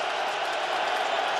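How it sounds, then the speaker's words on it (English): Football stadium crowd at a Jets at Lions NFL game, 2010, a steady broad roar of distant cheering that swells slightly, loud and continuous with no clear voices. "Crowd starting to get into it now"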